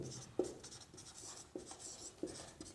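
Someone writes on a classroom board in a coaching class, producing short scratchy strokes and sharp taps at irregular intervals, faint and close, with no talk over them.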